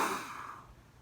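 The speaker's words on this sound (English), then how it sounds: "So try that again. Big breath in." A child draws one big breath, a brief airy rush that is loud at first and fades within a second, heard alone during a yoga breathing game.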